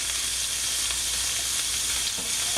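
Peaches and browning shallots fry in a pan, giving a steady, dense sizzle with faint crackles and stirring throughout, close and continuous with no talking.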